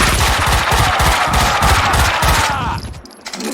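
Rapid automatic gunfire in the Max Payne 2 video game, a dense loud burst of repeated shots for nearly three seconds, then cutting off into quieter reverberant tail.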